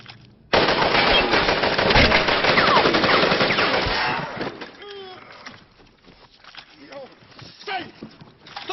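In a war film, a machine gun fires a sustained, loud burst for about four seconds. It gives way to scattered shots, rustling and distant shouting voices.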